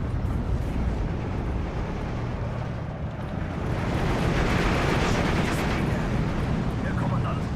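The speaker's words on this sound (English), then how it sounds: "There's a lot of rockets." Rocket explosions in the wartime strategy game Steel Division 2, heard as a dense, continuous rumble of blasts and rolling booms that swells in the later half, loud throughout, with a voice speaking over it.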